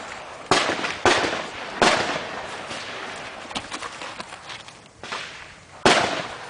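An old Irish army rifle fires repeatedly at a 100-yard range, with loud sharp cracks at irregular intervals echoing outdoors between shots.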